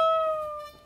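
A single guitar note on the second string, pre-bent a whole tone at the 15th fret, rings out and slides slightly downward in pitch as the bend is released, fading quickly.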